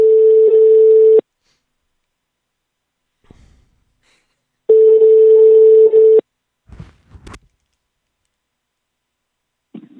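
A telephone line rings twice in long, steady electronic tones with a gap of silence between, followed by faint clicks and breathing before a radio prank call is answered.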